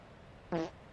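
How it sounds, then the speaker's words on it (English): A single short, buzzy fart sound effect sounds as a TikTok follow alert, a clear burst of about a fifth of a second over quiet background. "the fart sound is the follow on TikTok for those joining in"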